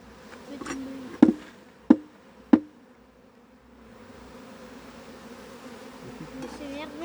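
Bees humming at an opened hive being transferred for lack of space, a low steady drone near the mic, broken early by three sharp knocks of hive parts.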